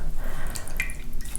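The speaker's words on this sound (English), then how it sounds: "You want to squeeze as much water as possible out, but no wringing, no sideways motion" Water drips and trickles close by as a wet wool gnome is squeezed out by hand, a brief patter of drops with a few louder splashes and no speech.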